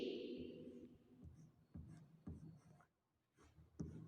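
Pen or pencil writing by hand on paper, the Hindi word for sage being written out, in close, quiet scratchy strokes with short pauses between them and no talking.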